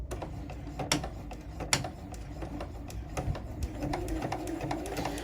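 Sewing machine stitching a fabric coffee sleeve over a hair tie, a quiet, steady mechanical whir with rhythmic needle clicks and ticks throughout.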